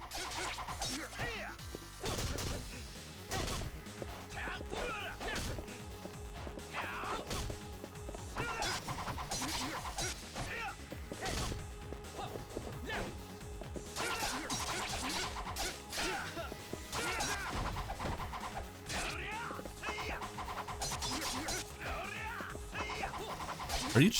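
Fist-fight combat in Yakuza 5 Remastered, with a steady stream of smashing hits and thwacks, whooshing swings and grunting effort sounds, loud and busy over game effects, with occasional voices mixed in.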